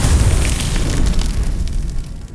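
A Confringo blast spell from the Hogwarts Legacy video game erupts as a loud, sustained rumbling explosion with crackling fire, filling the mix densely before easing slightly at the end, with no talking.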